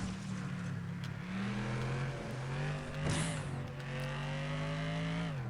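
A racing car in the video game FlatOut revs loudly and boosts through a turn, its engine pitch climbing and shifting, with a brief tire squeal partway through.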